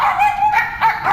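A dog gives a short run of yipping, whining barks, about four close, loud bursts in quick succession near a lakeside bass-fishing spot.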